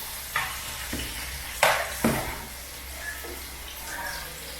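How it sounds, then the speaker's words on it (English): Onion frying in a pan for ackee and saltfish, a soft steady sizzle broken by several scraping stir strokes and a few sharper clatters, close up. "No, I fry onion and everything."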